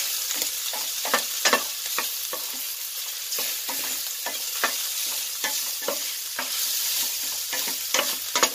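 Chicken liver and gizzard adobo sizzles loudly in a pan while being stirred, a steady frying hiss punctuated by repeated scraping strokes and clacks throughout, with no talking.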